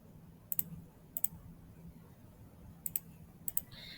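A computer mouse clicks crisply in a quiet room, four distinct double clicks spaced irregularly over a faint background hum.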